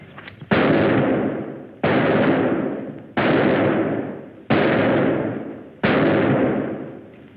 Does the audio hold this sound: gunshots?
yes